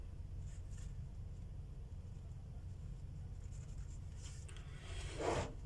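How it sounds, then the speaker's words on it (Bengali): A pen writes a formula by hand in faint, soft scratching strokes that grow a little busier near the end, over a steady low background hum. "ফর্মুলা এখন ফর্মুলা লিখে নেই"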